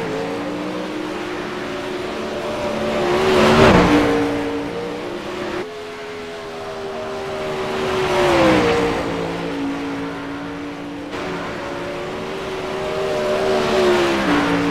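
The Dirtco Media race car launches off, and several engine passes follow one another: each loud, revving roar swells as it approaches and then fades, with the pitch sliding as it goes by.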